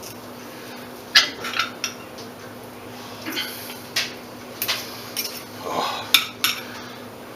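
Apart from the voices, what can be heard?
cutting grilled dinner with a serrated knife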